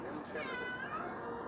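Bandito, a hungry cat, gives one drawn-out, wavering meow at close range over faint room noise.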